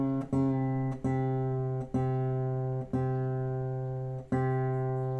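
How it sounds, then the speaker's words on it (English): An acoustic guitar's D string, detuned down to C, is plucked five separate times, each note ringing out clearly and sustaining until the next pluck, alone with no talking. "For our D string, we're going to go down to a C."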